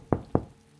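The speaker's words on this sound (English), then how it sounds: "Then they knock." Two firm, close knocks on a door, evenly spaced and quick, then silence.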